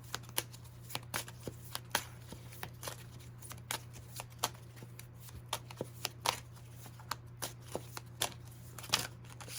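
Tarot cards being shuffled by hand, a quiet, close series of soft flicking riffles and taps at an irregular rhythm over a low steady hum.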